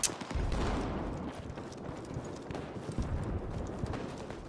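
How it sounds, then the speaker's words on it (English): Rapid thudding footsteps on a roof in Battlefield 6, a dense rumbling patter of steps mixed with distant gunfire and battle noise. "I hear loads of footsteps, but it sounds like they're inside me, but they're on the roof"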